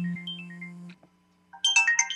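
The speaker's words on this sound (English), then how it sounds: "Hold on. That's my phone." A mobile phone ringtone plays a bright, repeating electronic melody at moderate loudness, stops after about a second, then a louder, denser burst of ringing tones returns.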